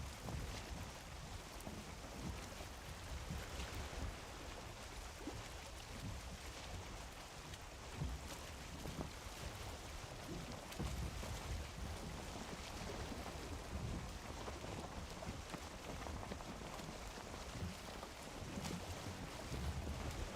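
A sailing boat in Valheim moves over open water: a steady, quiet wash of water and wind with a low rumbling hull noise that runs on unbroken and without talk.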